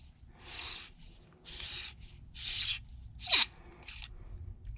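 Back cap being unscrewed from an Acetech Bifrost RGB airsoft tracer unit: a series of short, close scraping rasps in a steady rhythm, ending in one sharper click.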